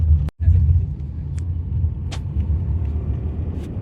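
A car rolls over a bumpy, damaged stretch of Ghodbunder Road near Gaimukh, with a steady low rumble and jolting thumps throughout, plus a brief dropout near the start.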